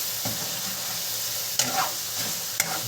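Onions and garlic sizzle steadily in a hot frying pan for menudo, a continuous close crackling hiss broken by a couple of sharp stirring clanks.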